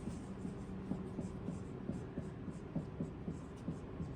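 Quiet pen or marker writing out quadratic equations, a continuous soft scratching with small rhythmic strokes and taps under a low steady room hum.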